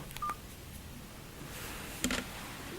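Button presses on a Doro 410gsm mobile phone give a short electronic keypad beep, then after a quiet pause a second cluster of clicks and tones, close and fairly faint.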